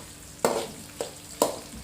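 Bitter gourd frying in hot oil in a pan, being stirred over a stove: a steady sizzle with three sharp bursts of stirring, close and moderately loud, no voices.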